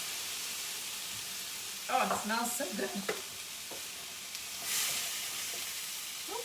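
Beans heating in a pan with lemon juice sizzle and hiss with steam, with some stirring clatter in the middle; a voice speaks briefly over the steady frying.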